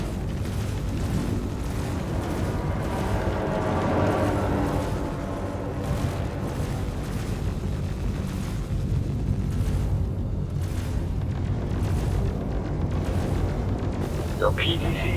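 Point defense cannons firing amid rumbling explosions in Star Citizen, a dense continuous roar with rapid repeated bursts and booms over about fifteen seconds, voices talking over the battle.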